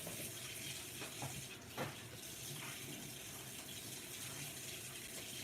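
Tap water running steadily from a kitchen faucet while it warms up, a continuous close, moderately loud rush with a few brief splashes and clatters partway through.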